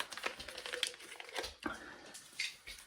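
Paper and plastic being folded up crinkle and rustle close by in quiet, irregular bursts, with a few sharper crackles and short pauses between handling sounds.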